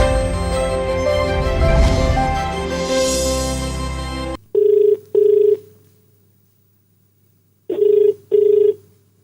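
A telephone rings for an incoming call to a radio phone-in, two short double rings separated by a pause, loud and clean after music cuts off abruptly.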